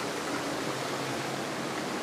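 Constant hissing flow of water running out into a koi pond, close and even in level throughout, with no speech over it.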